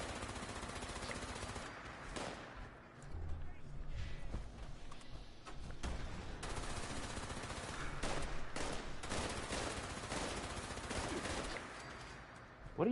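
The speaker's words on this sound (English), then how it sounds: "What are you shooting, dude?" Gunfire in the video game Fallout 76: rapid, sustained bursts of automatic shots crackle almost continuously, loud and close, with a voice talking over part of it.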